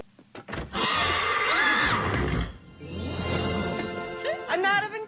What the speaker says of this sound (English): He's on a horse